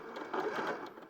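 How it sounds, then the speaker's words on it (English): A sewing machine stitches the gussets of a project at a steady pace, a continuous whirring motor that swells slightly in the middle of a short burst, fairly close and with no talking over it. "So I'm just sewing the gussets."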